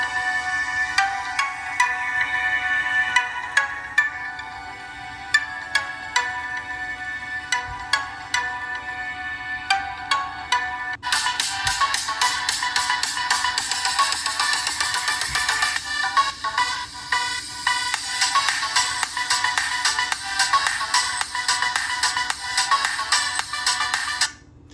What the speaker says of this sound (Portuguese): coloquei uma música de teste aí para vocês, inclusive, ouvirem a qualidade do alto-falante dele